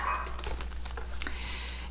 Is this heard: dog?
yes